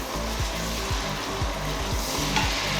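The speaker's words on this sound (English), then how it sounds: "I'm going to tip in my onions now" Roughly chopped onion tipped into a hot pan for split pea soup, giving a steady close sizzle with a faint rhythmic knocking underneath throughout, no voices.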